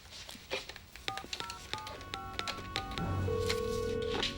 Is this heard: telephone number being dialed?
yes